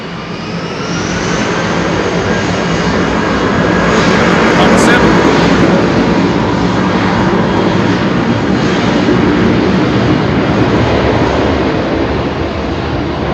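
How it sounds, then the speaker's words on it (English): A Boeing 747-8 Intercontinental freighter at Heathrow Airport gives a loud, continuous engine roar with a steady broadband rush that holds strong throughout, and a faint whine rises briefly in the middle. "Super strange 747-8 intercontinental freighter."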